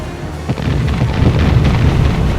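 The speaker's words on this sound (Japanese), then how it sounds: "扶桑山城が魚雷艇へ複砲で砲撃を行います" Naval gunfire at night as the battleships Fuso and Yamashiro shell enemy torpedo boats: a heavy, continuous rumble with deep booms, loud and dense throughout.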